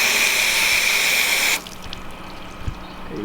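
A garden hose pours a loud, steady rush of water over a ceramic-coated car for a second and a half, then stops abruptly, leaving faint dripping and trickling.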